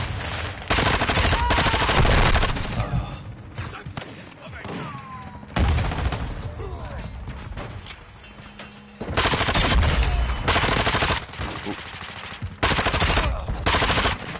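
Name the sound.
gunfire from enemies in a video game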